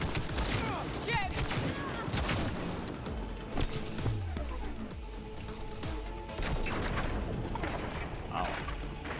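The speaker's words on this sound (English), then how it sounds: "We're under fire!" Chaotic gunfire from the video game Cyberpunk 2077, with rapid shots, crashes and booming impacts layered over each other, while voices shout under the firefight.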